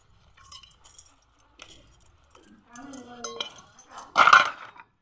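Dishes and utensils clink and clatter as they are washed, sparse light knocks that build to a sharp cluster of metallic chinks near the end, nearby and with no talking.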